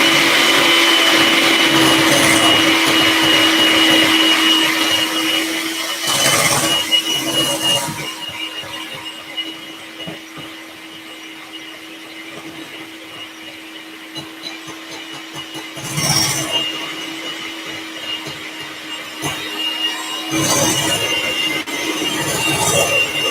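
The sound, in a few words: whipping cream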